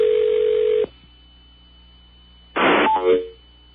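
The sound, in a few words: telephone line pickup noise on radio station call-in line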